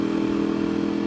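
A Ducati 848 Evo motorcycle engine while riding, a loud, steady droning exhaust note with a strong, even pitch held through the short stretch.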